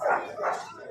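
A dog at a market selling rare and wild dog breeds gives a single close bark in two quick loud bursts, with a faint whimpering edge.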